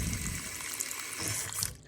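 Water pours into a rock tumbler barrel holding borax, a steady close trickling splash that fills out and then tapers off near the end, with no speech.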